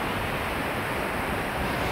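Waterfall in Iceland pours in a steady, dense roar of rushing water, broadband and constant throughout with no pauses, heard close and alone without any voices.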